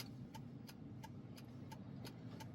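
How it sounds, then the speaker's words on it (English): A 2016 Jeep Willys creeping through stop-and-go traffic, its engine a steady mid-range hum with a faint, regular ticking pulse repeating about every third of a second, with no talking. "I guess you can see how the Jeep performs in stop and go traffic"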